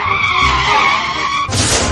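A vehicle skids into a collision: a loud, sustained tire screech runs for over a second, then breaks into a sudden noisy burst.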